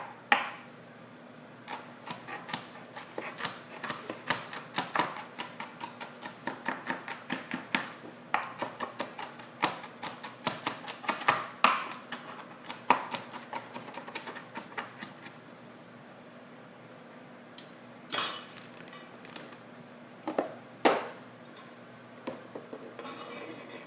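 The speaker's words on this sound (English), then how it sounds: "I'll chop them up a little more." A knife chops vegetables for a bearded dragon's diet on a board, giving rapid close clacking strikes in dense bursts with brief pauses and a few louder knocks, over a steady faint hum with no talking.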